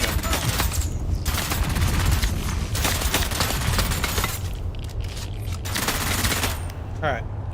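Shotgun and other gunfire in the video game Dune Awakening, a rapid, irregular series of loud sharp blasts in clusters, some overlapping, with brief gaps between bursts.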